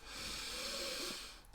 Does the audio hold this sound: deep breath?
yes